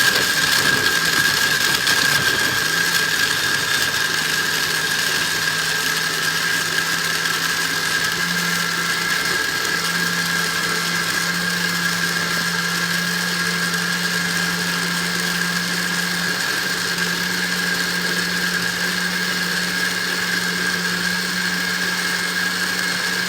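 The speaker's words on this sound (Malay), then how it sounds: "Kita kisar lagi sampai habis." A kitchen blender grinds dried chillies and onions into a paste with a continuous loud whirring drone that holds steady throughout, its motor pitch shifting slightly as the load changes.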